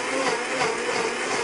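A Blendtec blender runs a pulse burst to clean its blade, lid and jar, a loud, steady high-speed whir of motor and churning liquid sustained throughout without talk.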